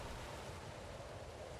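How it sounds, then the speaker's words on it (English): Rushing water ambience from the fantasy game Pillars of Eternity, a soft, continuous broadband wash like distant surf or a flowing stream, quiet and steady with no distinct events and no voices. "We've got rushing water."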